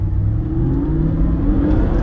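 An Audi R8 engine hums and rises briefly while driving, a steady mid-pitched drone with a gradually climbing tone and no talking.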